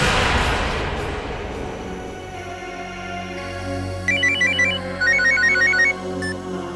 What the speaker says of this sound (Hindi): फिर उसे आमना का फोन आया।